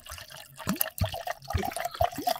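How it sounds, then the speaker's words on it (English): Liquid being poured into a cup during a gaming podcast, a few short splashy gurgles and drips, close and moderately loud, no talking over it. "That's me pouring victory juice."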